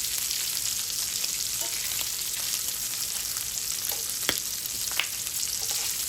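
Bacon sizzles and fries steadily in a pan, a dense continuous crackle with occasional louder pops and faint scraping as the strips are moved around, close and with no talk.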